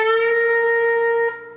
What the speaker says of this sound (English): we're going to pick the 14th fret of our G. After we pick it, we're going to bend it up a half a step